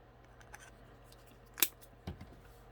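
Scissors or a blade cutting through a small plastic acrylic paint bottle, a few faint scrapes followed by one sharp crunching snip and a softer second snap, close in a quiet room.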